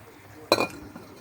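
A ceramic plate is set down as a lid over a cooking pan of sweet and sour turkey balls, giving a single short clink with a brief rattle, close and fairly loud, followed by a faint second tap.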